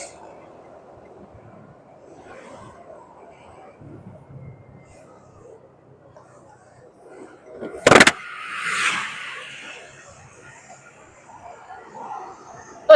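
A car cruises along the Jagorawi toll road near Sentul and passes a truck, with steady road rumble, a sharp nearby thump and a brief swelling whoosh, while people talk inside.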